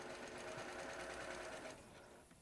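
A sewing machine runs steadily at close range with a rapid rhythmic stitching chatter, quiet overall, then it slows and softens near the end.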